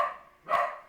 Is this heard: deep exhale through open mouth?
no